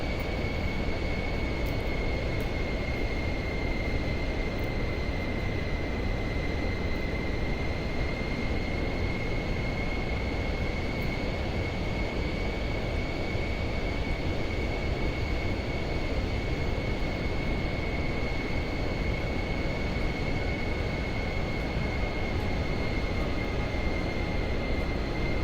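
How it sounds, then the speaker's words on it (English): Steady engine drone of an airplane on manual landing approach in Microsoft Flight Simulator 2024, a constant hum with a sustained tonal whine, even and unbroken throughout with no talk. "we will start to land it manually"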